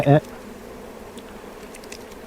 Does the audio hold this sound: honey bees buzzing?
yes